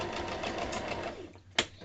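A sewing machine stitches white fabric at a craft table, a steady near whirring run that slows and stops, followed by a short sharp click.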